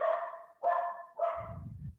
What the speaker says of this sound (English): I'm really sorry if you can hear my dogs.